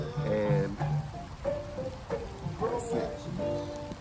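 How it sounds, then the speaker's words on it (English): Rain falls outside over a garden, a steady soft hiss of drops on surfaces beneath someone talking at close range. "The rain is here, you probably can hear it."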